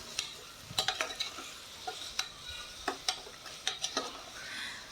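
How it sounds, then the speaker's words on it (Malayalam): Onions with salt being sautéed and stirred in a pressure cooker for beef rice, a soft sizzle under repeated sharp scrapes and taps of a spoon against the pot, close and fairly quiet, with no talking. "ഇനി നമുക്കത് നന്നായിട്ട് തന്നെ ഒന്ന് വഴറ്റിയെടുക്കാം"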